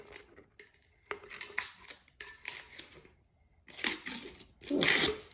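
Tape peeling off a sublimated tumbler makes raspy, crackling strips of sound in several separate pulls, close and fairly loud, with short quiet gaps between.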